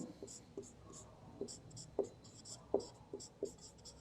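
Notes written by hand during an electrical engineering lesson, faint scratchy pen strokes with a few sharper taps, soft and close, with a quiet murmur of voices in the background.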